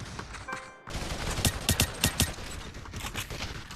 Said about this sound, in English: I just took advantage of the rapid fire aspect of the SMG, and I just mowed these targets down